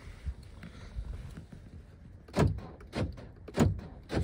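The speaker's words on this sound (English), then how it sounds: "This rear door lock back here doesn't work anymore, so you have to do it manually." Rear door lock on a 2000 Mercury Sable being worked by hand with a broken power lock, a few faint taps followed by three louder mechanical clunks and thumps close by.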